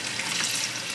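Salt water that calamari soaked in being poured out into a sink, a steady close splashing rush with no talking.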